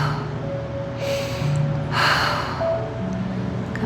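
A yoga finger-and-wrist stretch in which the middle finger is pulled toward the body and twisted, with breathing held through it: soft, airy breaths, the second fuller and closer than the first, over a constant low room hum.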